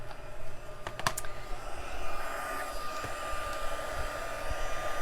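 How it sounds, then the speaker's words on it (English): A heat embossing tool blows with a steady, fairly quiet airflow hiss, warming embossing powder on paper, while a few sharp clicks and taps sound near the start. "I'm going to turn on my heat tool and let that run for just a second"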